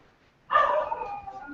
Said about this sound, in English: Is this are these the dogs at Dawn's place or are these the dogs at Prayas' place?